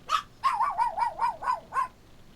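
A dog barks seven times in a quick, steady series of sharp, close, fairly loud yips, with no voices over them.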